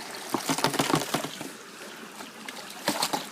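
Water poured and sloshed into a bucket during gold panning in Wicklow, close splashy trickles in two bursts with a quieter stretch between.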